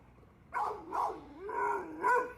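Several dogs react to a Canadian lynx, giving four drawn-out, howling barks in a row that sound fairly distant and quiet.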